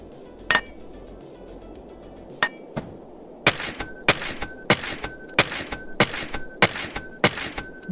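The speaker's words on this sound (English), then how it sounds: "Smash 3 items with a hammer." A hammer smashes wooden pallets in a video game, loud sharp cracking blows with a ringing edge. A few scattered hits come first, then a steady run of evenly spaced strikes about twice a second.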